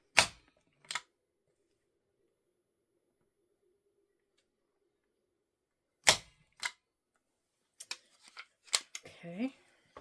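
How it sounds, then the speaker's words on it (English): Sharp clacks from a Power Shot stapler driving staples through a homemade seed journal, a loud snap near the start and another burst around the middle, with softer handling clicks and a short murmured voice near the end. "my stapler is called a power shot, and I tell you what, it is powerful. It staples the books all the way through"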